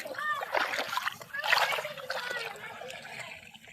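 Water splashing and trickling as a person bathes and swims in a river on a cold winter day, with irregular close splashes rising and falling and faint voices in the background.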